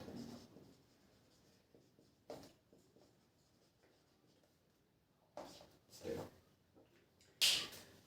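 Pen or marker writing out a chemistry formula for IUPAC nomenclature, faint scratchy strokes across the stretch with a few louder knocks and taps, no talk over it.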